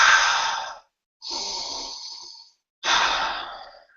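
Three deep, slow inhalations of a cupped essential oil scent, such as cedarwood or pine, sound close and airy. Each breath is separated by a short silent pause.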